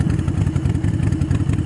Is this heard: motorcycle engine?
yes